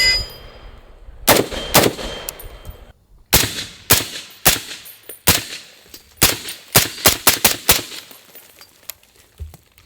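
FN SCAR rifles (16S, 17S and 20S) fire sharp, loud shots in irregular bursts at an outdoor target stand, with some quick doubles and a metallic ring after the hits.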